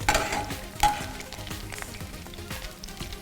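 Idli pieces fry in hot coconut oil with curry leaves, crackling and sizzling close by with a couple of louder spits early on, then a quieter bubbling.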